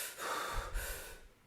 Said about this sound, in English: when we breathe in and out like that, nice and slowly, that can help us relax